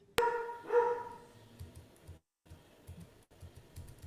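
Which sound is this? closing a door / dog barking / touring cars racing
dog barking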